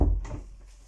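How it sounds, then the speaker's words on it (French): A door pushed shut inside an apartment, one soft low thud at the start followed by a brief fading rumble, close and fairly quiet. "alors je vais fermer la porte"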